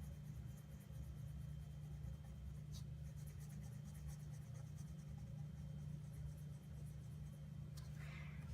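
A pencil rasps steadily across paper while a Mickey Mouse drawing is coloured in, faint and continuous over a low engine-like rumble.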